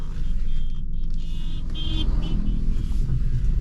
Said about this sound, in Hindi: गाड़ी में साइड कर लेता हूँ